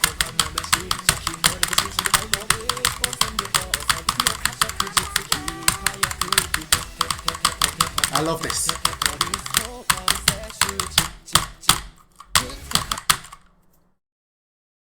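Fast, dense keyboard clatter from a rhythm game played on a computer keyboard, with rapid streams of key hits that thin out into a few separate strikes before going silent. A voice speaks briefly over the typing.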